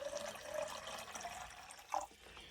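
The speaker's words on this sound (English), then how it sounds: "What I do is I put in the water first" Water poured into a 27 oz Voltrx bottle blender, filling it about halfway: a steady close splashing, gurgling stream that runs throughout and briefly rises near the end, no talking.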